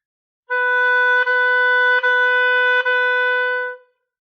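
Four sustained B notes on an oboe, tongued legato so each note flows into the next with only a brief articulation break, played alone and clearly.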